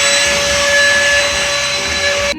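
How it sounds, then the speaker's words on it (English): Vacuum cleaner sucking debris out of holes in an apartment wall, a loud continuous whining roar with a steady high whistle, close up and running throughout without talk. "First, you want to go ahead and vacuum up any debris inside"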